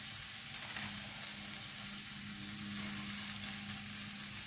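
Spinach and onions sizzle in a hot pan for a Gouda spinach tart, making a continuous close crackling hiss that stays loud and even throughout, with no voices.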